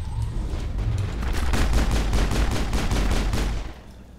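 Shredder rounds fire in a sci-fi shooter game on a besieged colony world, a rapid, sustained volley of loud, close shots that cuts off after about three seconds.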